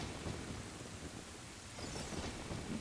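Thunder rolls during a rainy night storm in The Legend of Zelda: Ocarina of Time, a steady low rumble under a constant hiss of rain that swells slightly toward the end. No talking.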